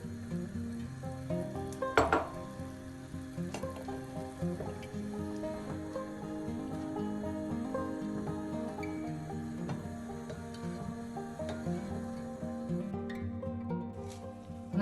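Honey syrup for chak-chak boils hard in a pot, a continuous low bubbling and sizzling simmer, fairly quiet, with occasional clinks and stirring sounds and no speech.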